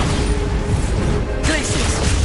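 Bombarda spell explosion in Hogwarts Legacy, a loud, broad burst cutting in midway through dense, rumbling game combat noise, close and forceful, with no voices.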